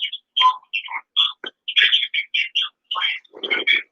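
Birds chirp steadily in a rapid series of short, bright tweets and trills, close and clear, with brief pauses between calls and no voices over them.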